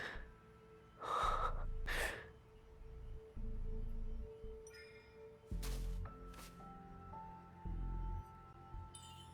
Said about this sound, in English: His breathing is steady.